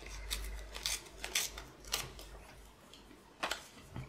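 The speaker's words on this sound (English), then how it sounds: "I'm just going to tear the edge here." An old tea-stained book page is torn along its edge in several short, crisp rips with brief pauses between them, close and fairly quiet, with no voices.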